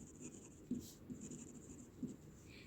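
A pen writes on paper while working through linear equations, producing faint, close scratching strokes with a couple of small taps, very quiet.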